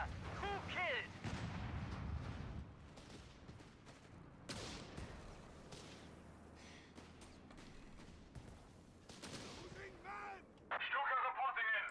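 Heavy artillery booms and bursts of gunfire roll through a World War II battle in Company of Heroes 3, with layered explosions, creaking machinery and scattered shots throughout, and voices heard in the mix.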